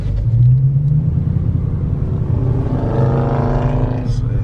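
A Dodge Charger Scat Pack's engine rumbles loudly and close at a dealership, a deep idle that rises into a revving climb toward the end of the clip.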